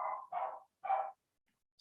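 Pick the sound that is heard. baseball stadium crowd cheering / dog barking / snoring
dog barking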